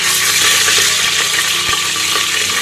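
Whole garam masala spices sizzling in hot oil in a pan, a loud, dense, continuous crackling hiss with an occasional light stir or clink.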